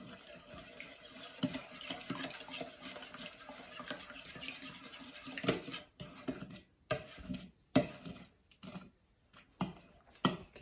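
Glucose syrup, yeast and flour are mixed into a pumpernickel dough, giving soft, irregular scraping, stirring and light knocking in a bowl at close range.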